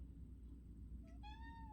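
A cat meows once, a clear rising then steady meow near the end, over a low indoor hum with no talking.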